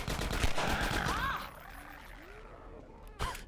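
Gunfire from a shooting video game character, rapid bursts of shots that rattle loudly at first, then thin out into quieter background game sounds before a final sharp shot near the end.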